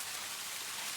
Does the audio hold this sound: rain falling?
yes